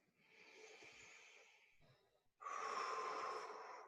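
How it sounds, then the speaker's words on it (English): Slow, deep breaths during a guided breathing exercise: a soft, airy inhale, a brief pause, then a louder, fuller exhale, close and alone. "Let's take a couple more breaths together."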